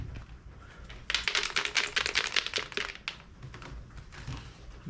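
Dice rattle and clatter across a tabletop during a Skies Above the Reich board game, a dense burst of hard clicks lasting about two seconds, close and fairly loud, with no talk.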